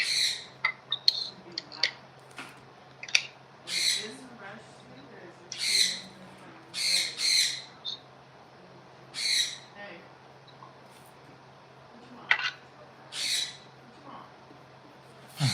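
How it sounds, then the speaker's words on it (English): A pet bird indoors at home gives repeated harsh squawks and short calls, loud and close, in irregular bursts every second or two over a faint steady hum. "That bird is telling you how to do things here around the house"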